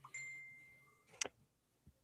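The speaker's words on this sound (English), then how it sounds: "They heard the ding." Phone notification ding: a faint electronic tone followed by one sharp, bright chime in a quiet room, then a soft tap.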